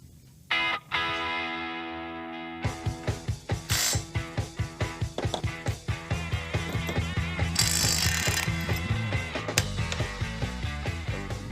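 A hand ratchet cranks new bolts tight on a 1964 Chevrolet Malibu, a fast series of sharp, evenly spaced clicks close to the listener, with a few heavier clunks and metallic knocks scattered among them.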